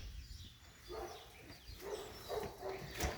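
A dog indoors barks and whimpers at someone walking their dog outside, with a few yips over faint background noise at moderate distance.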